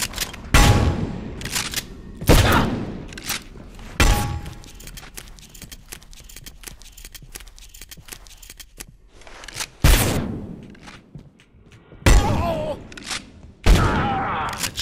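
Enemy gunfire in the video game Abiotic Factor: a string of loud, sharp shots spaced a second or two apart, each ringing out with a long decaying tail, with quieter clatter and scuffling between them.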